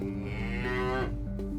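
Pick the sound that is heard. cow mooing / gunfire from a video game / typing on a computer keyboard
cow mooing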